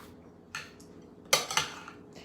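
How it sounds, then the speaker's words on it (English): A spoon scrapes and clinks against a mixing bowl in a home kitchen while red peppers are stuffed with quinoa, a few quiet, brief metallic strokes with soft gaps between them. "Can you not scrape the bowl that loud?"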